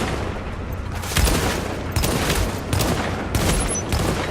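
Rapid gunfire rattles through a firefight in the shooter game The Division, with overlapping bursts and shots cracking continuously, loud and close, without talk.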